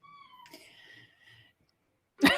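A kitten gives a few thin, high, wavering meows, faint and close, before a short louder rustling burst at the end; no talk.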